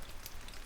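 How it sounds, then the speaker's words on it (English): Heavy rain patters against a window in a video game, a brief, faint, dense hiss of drops with no voices. "The window shook as the heavy rain drops."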